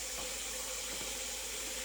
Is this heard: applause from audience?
no